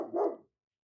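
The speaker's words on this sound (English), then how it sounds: "Sorry, my dog was going crazy." A single short dog bark, close and fairly loud, followed by silence.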